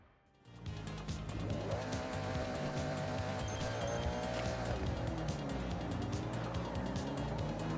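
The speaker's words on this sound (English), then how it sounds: "Oh, that was an amazing drift that time." A car's tires squeal steadily while drifting in the racing game Forza 6, played on a race wheel controller, the engine droning loud and continuous underneath after a brief quiet start.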